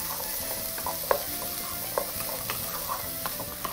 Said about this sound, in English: we're going to proceed to saute our beans in there as well